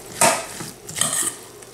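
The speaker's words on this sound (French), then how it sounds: "Alors, je le mélange." A spoon stirs bulgur salad dressed with olive oil in a dish, two distinct scraping clinks of utensil against the bowl with softer rustling mixing in between.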